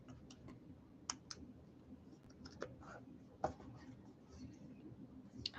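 A pen scratches out a note on a small Post-it pad, giving faint, close scribbling and light clicks in short irregular strokes, very quiet with muffled background murmur.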